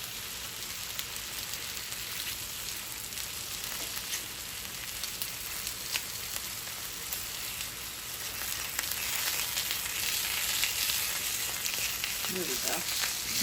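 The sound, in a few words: food frying in a pan for breakfast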